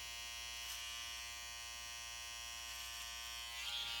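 An electric hair clipper trimming along a man's neckline during a classic side part haircut, a steady close buzzing hum running throughout with little change.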